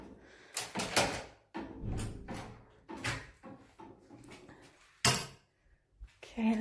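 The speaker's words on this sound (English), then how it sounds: "let's get these doors open" Doors are handled and opened during a check-out inspection in a dark room, giving a series of close, loud knocks, clunks and rattles with a sharp bang near the end and brief pauses between.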